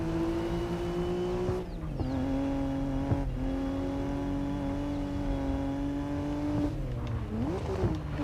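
A four-wheel-drive race car in the racing game GRID Legends holds a loud, steady engine drone. Its pitch drops and climbs again at a few gear shifts, with no talking over it.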